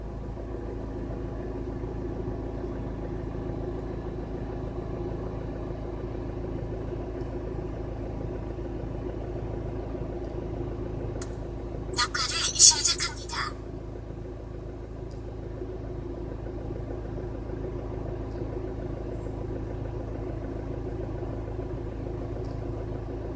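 Hyundai Tucson ix engine idling with a steady low rumble heard from inside the car, broken once midway by a brief brighter rattle, with no talk.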